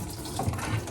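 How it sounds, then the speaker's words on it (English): Water running and leaking from a Scotsman under-counter ice machine, a brief close gush and trickle with small gurgles. "water is gonna be leaking over this front edge"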